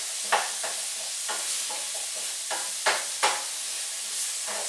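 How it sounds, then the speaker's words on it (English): Sweet potatoes being stirred into a kale and chickpea curry in a pan, giving a soft background sizzle broken by several scraping spoon strokes at irregular intervals, close and moderately quiet, with no talking. "So adding all of the sweet potatoes and mixing those together."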